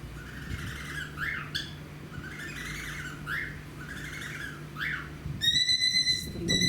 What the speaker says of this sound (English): Our parrot is in a good mood today.